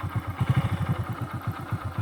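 A motorcycle engine idles in first gear as the clutch is eased out, a close, steady mid-pitched chugging pulse with a regular rhythmic beat and no talk.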